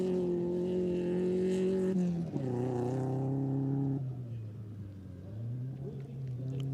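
Rallycross race cars on the track roar along during the last lap, a steady engine drone that shifts pitch as they change gear and fades slightly, with a commentator's voice running over it.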